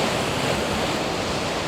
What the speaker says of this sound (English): try and get those waves crashing across the rock